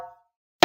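A single sharp, bright slap struck on a djembe hand drum cracks out near the end, after the fading ring of an earlier tone and a brief silence.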